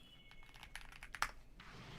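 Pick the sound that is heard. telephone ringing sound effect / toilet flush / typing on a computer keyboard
typing on a computer keyboard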